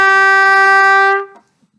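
A single note A played on a band instrument using the octave key, held steady and bright for about a second before cutting off, clear and close with no talking.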